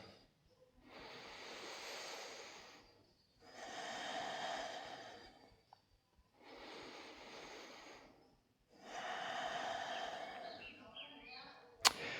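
Slow, deep yoga breaths during practice, four long airy inhale-exhale cycles, each several seconds long, with clear pauses between them, close and fairly quiet.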